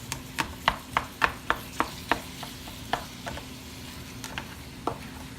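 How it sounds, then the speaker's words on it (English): A spatula chops browning meat for beef stroganoff in a sizzling pan, about a dozen sharp metallic taps in a quick, slightly uneven rhythm over a steady frying hiss, close and clear, with no talking. "And I just kind of come through and chop."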